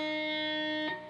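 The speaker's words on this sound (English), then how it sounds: "Then I'm going to pick the open high E string." Open high E string on an electric guitar picked once, ringing with a clear sustained tone and bright overtones, alone, with a brief touch near the end before it decays.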